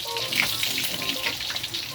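Tilapia fish frying in a pan, giving off a steady, dense sizzle and crackle that runs unbroken and fairly close, with no talking over it.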